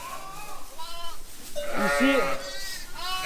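Ewes bleat on a sheep farm, several wavering calls overlapping at close range, the loudest in the middle; someone speaks briefly over them.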